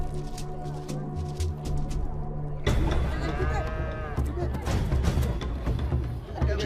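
A cow lowing before a Dasanech sacrifice ritual in a village, with a long, loud, close moo rising midway over a background of murmuring voices and crowd noise.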